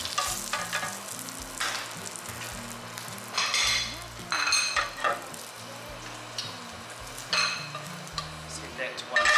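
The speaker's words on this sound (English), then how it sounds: "I'm going to use the fat just to add some grease to the skillet" Wagyu beef fat sizzles and spits in a hot skillet, a continuous frying crackle with repeated scraping and stirring strokes against the pan, close and fairly loud.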